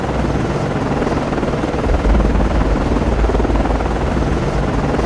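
A ship's helicopter launching from the destroyer DDG 79 in the naval game Cold Waters: a continuous loud rotor and turbine roar with a deep low-end thump that swells slightly partway through, with no talk.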